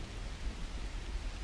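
A thunderstorm in the video game The Universim, with a dense, steady wash of rain and low rumbling thunder, loud and continuous with no distinct single strike.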